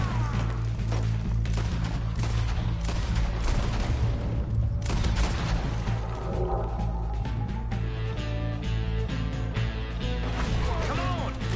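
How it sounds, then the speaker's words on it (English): Gunfire in a Red Dead Redemption 2 shootout: rapid bursts of shots and crashes over a continuous loud game soundtrack, dense in the first half and thinning later, with voices talking among the shooting. "We're shooting our way out of here, boys!"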